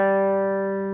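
A plucked guitar G string rings as one bright sustained note, slowly dying away, heard close with nothing else around it.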